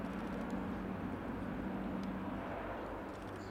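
An Airbus A400M Atlas military transport aircraft performs a minimum-radius turn during a flying display at an air show, a steady, loud and continuous turboprop drone with a strong low hum and no clear talk over it.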